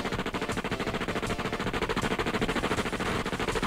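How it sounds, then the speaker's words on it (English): Rapid, sustained Gatling gun fire from the XCOM video game, a dense unbroken stream of fast rounds with a steady mechanical rhythm, close and loud throughout. "Nothing like a bit of Gatling gun to sort out the opposing forces"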